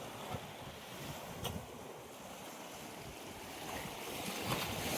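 Strong high-tide waves surge onto the shore at Sitakunda beach in Bangladesh, a steady rushing wash of surf mixed with gusting wind noise, a few sharper splashes breaking through and swelling louder toward the end.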